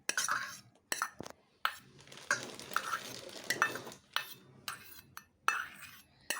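Chopped tomato being mixed into bhel in a bowl, a series of quick spoon scrapes and clinks against the dish in irregular bursts, close and quiet.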